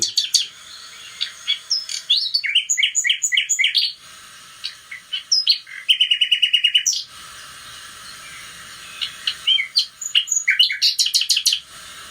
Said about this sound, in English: So you can have the Nightingale theme tune this time.